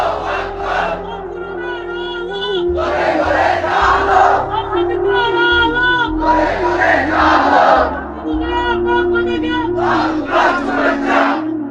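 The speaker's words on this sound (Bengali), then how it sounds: "হ্যাঁ দাও তাকবীর দাও।" A large crowd shouts the takbir together in loud, unified bursts, several swelling chants following a lead voice in a call-and-response rhythm at a religious gathering.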